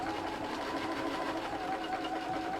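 Sewing machine stitching down folded pleats of fabric for a Japanese omiyage bag, a steady close-up mechanical whir running evenly throughout with no talking.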